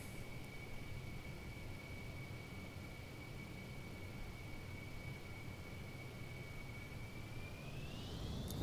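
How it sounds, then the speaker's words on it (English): A Concorde airliner in Microsoft Flight Simulator 2020 comes in to land at a regional airport over trees, giving a steady, even engine roar with a high whine that rises slightly near the end. "A supersonic airliner landing at a regional airport."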